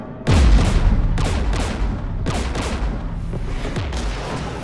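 Gunfire and explosions in the video game Mass Effect 3, with a heavy boom opening a steady fusillade of repeated shots and blasts, loud and dense throughout.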